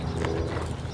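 A horse stepping sideways during a lateral movement, a brief run of soft, close hoof falls in uneven rhythm over a rumbling background, lasting about a second.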